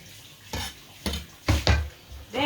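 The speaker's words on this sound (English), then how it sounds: "This is how I'm gonna chop the spinach" A knife chops spinach on a board in a home kitchen, four or five sharp, separate knocks spaced about half a second apart, close and clear with no talking.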